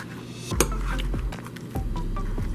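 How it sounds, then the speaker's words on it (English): A spoon chops through ice cream in a dish, giving a few scattered metallic clinks and scraping taps against the bowl, close and moderately loud over a constant low background hum. "I'm just going to kind of chop it up a little bit."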